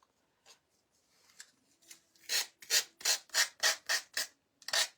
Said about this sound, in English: Need my little sander.